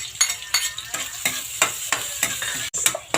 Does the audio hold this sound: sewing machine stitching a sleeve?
no